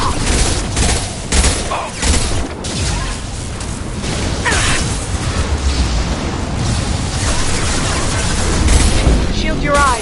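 Heavy gunfire from the video game Mass Effect 2: dense bursts of loud shots and booming impacts fill the full ten seconds, with combat chatter from characters mixed in.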